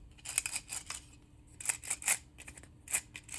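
Bearing assembly of an MK-IV tool lifter being turned by hand, giving bursts of light, crisp metallic clicking in uneven clusters, close and quiet with no talk.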